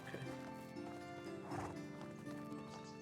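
Horses in the medieval farming game Medieval Dynasty neigh and whinny over soft clip-clop hoofbeats, set against a steady tonal game soundtrack.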